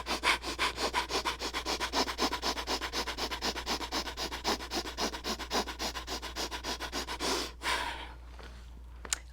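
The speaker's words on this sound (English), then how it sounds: "this time 25 rapid inhales and exhales through the nose" Quick forceful breaths in and out through the nose during a yoga core flow, about twenty-odd sharp rhythmic sniffs close to the microphone that speed along evenly, then stop into quiet, with no talking.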